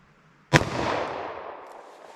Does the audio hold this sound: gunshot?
yes